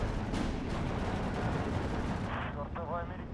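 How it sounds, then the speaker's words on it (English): Gunfire in a World War II strategy game with a Polish infantry division, dense crackling shots and distant artillery thumps under steady battle noise, with voices speaking briefly near the end. "Oh, gunshot, that's super lucky for me"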